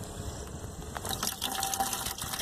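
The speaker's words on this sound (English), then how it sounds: "when I turn on the hot water" Hot water runs from a tap in a steady rush that grows fuller and louder about halfway through, with no voices.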